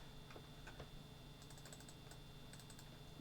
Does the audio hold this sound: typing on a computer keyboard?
yes